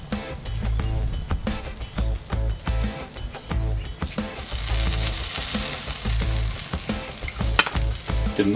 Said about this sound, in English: Now I'm going to seal the edges of the meat.